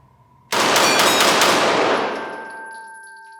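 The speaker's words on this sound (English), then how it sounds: "Let's do some rapid fire, 5 rounds, and we'll see what it can do." A Canik TP9 Elite Combat handgun fires five rapid rounds, a sharp loud burst of closely spaced shots at close range, the final ring decaying over a second or two.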